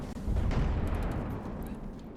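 In a naval video game, a ship's bow and stern turrets fire EMP shells, producing a heavy, booming blast that rolls into a long rumbling decay, loud and alone without talk.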